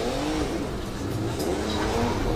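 Drift cars launching off the start line in a Pro-Am battle at the British Drift Championships in Buxton, engines revving hard and steadily with a loud, sustained roar.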